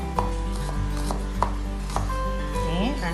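A knife chops raw onion into small pieces for the Gayo dish cecah reraya, striking the board in steady, evenly spaced chops close up.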